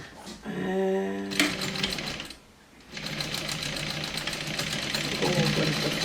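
A sewing machine stitches across the seam of a Tower Messenger bag in steady rapid bursts, pausing briefly before running again close by.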